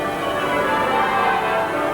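The bells of Westminster Abbey peal in a steady wash of overlapping rings that carry through the air, continuous and fairly loud, with no voices heard.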